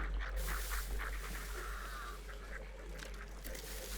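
Ducks quack faintly and intermittently in a video game, a few soft calls scattered over a steady low background hum.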